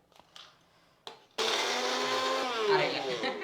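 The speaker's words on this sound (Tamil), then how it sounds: "இது இப்போ இந்த பூண்டை வந்து கொஞ்சம் நைஸாக அரைச்சிக்கலாம்." An electric mixer grinder whirs loudly and steadily as it grinds garlic cloves with their skins on, starting abruptly after a few faint clicks and running continuously close by.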